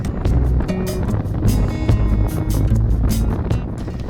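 A motorcycle cruises south on US 84 near Fort Sumner, New Mexico, its steady engine drone buried under heavy, continuous wind rush from close by.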